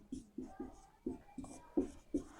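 Chalk writing on a classroom board during a Class 10 biology lesson, seven crisp, evenly spaced taps and strokes in a quick rhythm, close and fairly clear, with no talking over it.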